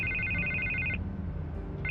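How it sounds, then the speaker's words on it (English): A telephone rings in the Batman: The Telltale Series game, with repeated electronic trills that break off partway through and resume near the end over a low background hum. "I can't get the phone to stop ringing."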